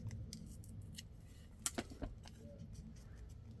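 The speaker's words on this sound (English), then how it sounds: "Cut in a little bit and then tear." Paper label for a junk journal being snipped with scissors and torn at the ends, a few quiet, crisp clicks and rips close by in a hushed room.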